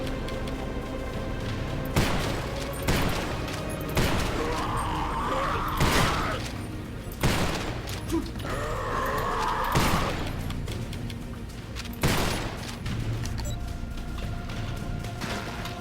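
Shotgun fire in the horror video game Garage: Bad Trip, a series of loud, sharp blasts roughly every two seconds, each with a heavy boom and a mechanical pump or reload clack, over a low game soundscape.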